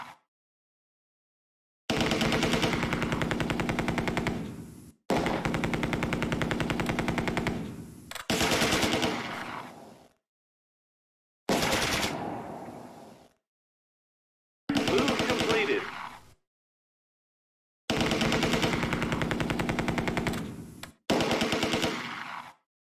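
Machine gun fire in the Close Combat 2 war game, seven loud sustained bursts of rapid shots separated by brief silences.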